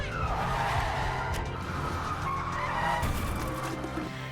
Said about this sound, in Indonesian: Dr. Murphy memutuskan membelokkan mobil dan menabrak tong sampah